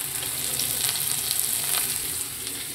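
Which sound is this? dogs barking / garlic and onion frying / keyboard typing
garlic and onion frying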